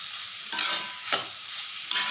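Cooked potatoes and vegetables for bajji milagai mixed rice are stirred in a sizzling pan, with about three distinct scraping sweeps of the spoon over a steady, soft frying hiss, heard close up.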